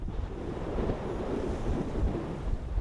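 Open-sea waves wash steadily against a sailing vessel on a group sail, with a continuous low surf rumble and gusting wind buffeting nearby.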